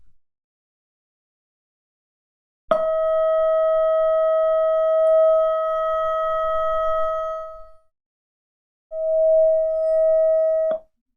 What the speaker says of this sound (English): So if I play that instead, it should sound like an E note.